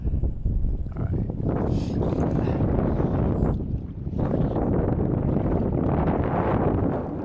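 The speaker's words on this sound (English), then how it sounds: "Yeah, wind's gonna kick up on me." Wind buffeting an outdoor microphone while fishing below Denison Dam's tailrace: loud, continuous rumbling gusts with surges and a brief lull, no voices.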